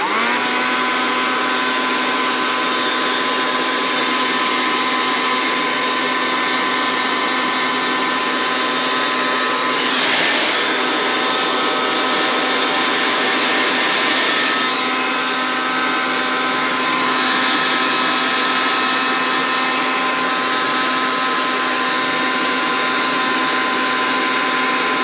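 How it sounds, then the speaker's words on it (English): A borrowed household blow dryer runs steadily at close range, aimed at rubber to heat it loose during winter farm prep; a loud, continuous whooshing whine with a stable pitch and faint shifts in tone as it is moved. "I had to resort to getting my mom's blow dryer"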